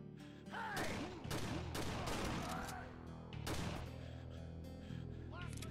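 Repeated gunfire from a gun in the video game Ashes 2063, loud bursts and shots spread across the whole stretch with game effects mixed in.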